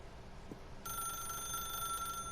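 A telephone rings in The Stanley Parable: Ultra Deluxe, a steady bright electronic bell tone that starts suddenly and continues unbroken, fairly quiet with no talking.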